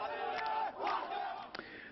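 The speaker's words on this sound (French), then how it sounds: "La foule criait vengeance." A crowd at a Palestinian funeral near Bethlehem shouting for revenge, a dense mass of loud chanting and yelling voices, nearby and continuous for two seconds.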